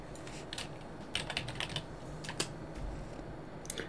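Typing on a computer keyboard, quiet irregular clicks and taps nearby in short bursts over a faint background hum, no talking.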